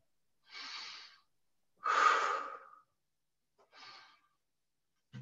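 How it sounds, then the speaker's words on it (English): Deep belly breaths during a breathing exercise: three separate breathy inhales and exhales, the middle one longest and strongest, close to the microphone with silence between them and no talking. "Breathe deep in your belly."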